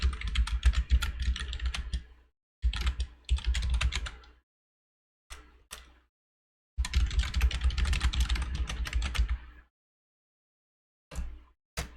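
Bursts of typing on a computer keyboard, rapid clattering keystrokes in several separate runs broken by silent pauses and a few short isolated taps, close and clear.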